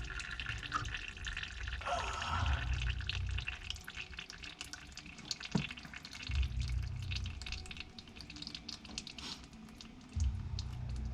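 Hot engine oil drains from a 2017 Dodge Challenger into a drain pan, a steady liquid trickle and patter running throughout with a few louder splashing surges, close and without talk.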